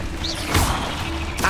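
A spell-cast burst from Hogwarts Legacy gameplay, a dense magical whoosh and crackle swelling to a sharp impact around the middle of a brief, busy mix of game effects and ambience.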